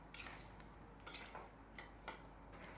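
A lid set onto a cooking pot in a home kitchen while spiced drumstick curry simmers: several faint, sharp metallic clinks and taps scattered over a few seconds, quiet and close.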